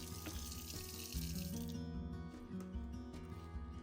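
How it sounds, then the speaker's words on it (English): Water runs from a kitchen faucet into a seedling tray, a steady splashing rush with a shift in tone partway through as the tray fills, close and moderately quiet with no talk. "I turn on the faucet and I go ahead and fill up the tray with water"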